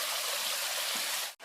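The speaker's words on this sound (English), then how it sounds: "There's a waterfall right here." Steady broadband rush of water from a nearby waterfall, loud and continuous, cutting off abruptly near the end.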